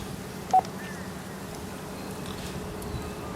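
A Codan Envoy HF radio gives a single short electronic beep as its call button is pushed, followed by a faint rising tone over a steady low hum and static hiss.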